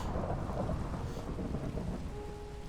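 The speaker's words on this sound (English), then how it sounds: "Way too many lightning strikes." Rolling thunder from lightning strikes during a rainstorm in the Minecraft Monifactory modpack, a deep continuous rumble mixed with steady rain noise, fairly loud and unbroken throughout.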